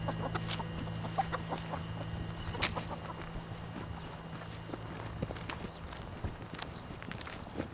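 Chickens cluck softly in a farmyard, with scattered footsteps and clip-clop-like steps. Short, faint calls mix with light knocks over a low hum.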